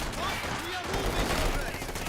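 Rapid small-arms fire crackles steadily through a Company of Heroes 2 battle, a dense chatter of overlapping shots beneath talking voices and battlefield noise.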